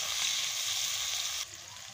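Onions frying in a pan for a meat curry, a steady close hiss of oil sizzling that drops in intensity toward the end.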